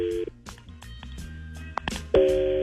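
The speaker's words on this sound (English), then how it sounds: "we're going to make the phone call right now to Cassie" A phone call being placed: a short electronic tone, a run of quick dialing beeps, then a steady ringing tone near the end, clear and close.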